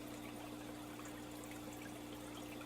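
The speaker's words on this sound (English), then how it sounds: "we'll let the last of the water drain out of the bottom" Water from a brine shrimp hatching setup trickles and drains steadily out of the bottom of a container back into the tank, a continuous faint dribbling stream over a low steady hum, with no talking.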